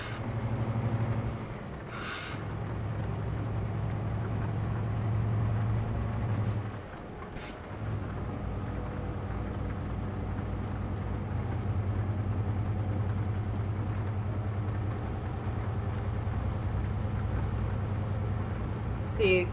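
Semi truck in American Truck Simulator under hard braking: a steady low engine drone, several sharp hissing air-brake bursts, a brief dip, then the engine resumes, faint talk in the background.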